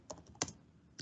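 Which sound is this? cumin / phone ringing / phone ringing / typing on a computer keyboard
typing on a computer keyboard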